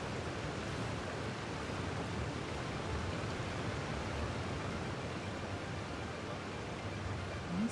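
A steady, soft rushing of a waterfall in the video game Genshin Impact, even broadband noise with no breaks, moderately distant and alone without talk.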